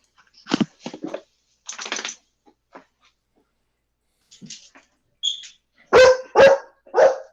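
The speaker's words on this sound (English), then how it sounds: "his dog is very excited about this prospect" An excited dog barks and yips in scattered bursts, with quiet gaps between them and a trio of louder, sharper barks near the end, close by.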